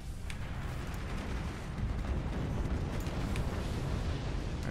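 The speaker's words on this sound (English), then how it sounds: "Now that is actually a proper use of a 20mm. Just to, destroy exposed machine gunners like this." Rapid 20mm cannon fire rattles in a dense, continuous stream against exposed machine gunners in the Forts RTS video game, a steady low rumble of overlapping shots and impacts with no talking.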